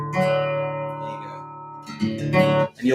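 A guitar strummed twice with its G string tuned flat, so the chord rings out of tune. The strings sustain and shimmer close by, then a second strum lands near the end.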